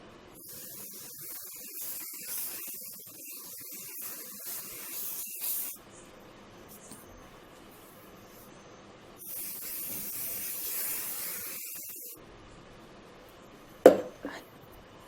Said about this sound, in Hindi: सो आइए हम इसको स्प्रे करते हैं।